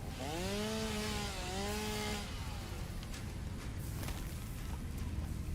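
A chainsaw in the video game Satisfactory rips through trees in two rising engine whines, then settles into a continuous loud grinding drone.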